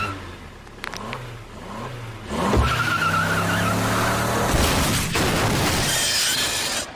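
A cartoon car revs and accelerates, then skids with squealing tires and a crashing shatter. The sound is loud and close, with the engine roar continuing after the crash and no talk.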